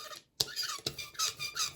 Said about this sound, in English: Getting the roller nice and coated. Looking for that sticky sound.